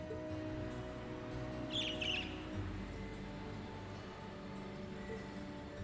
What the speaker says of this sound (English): Pretty cool. Bluebird.